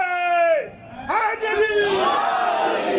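A man's drawn-out shouted call is answered by a crowd chanting the religious slogan Haidari together, a loud massed roar that rises and then holds at a distance.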